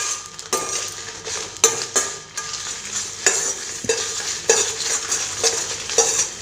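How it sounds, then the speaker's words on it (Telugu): Spices and dried chillies dry-roasting in a hot pan for sesame powder, stirred with repeated sharp scraping strokes over a light crackling sizzle, close and fairly loud. "కొంచెం వేడైన తర్వాత ఆ వేడికి మనం ఇట్లా ఫ్రై చేసుకోవాలి."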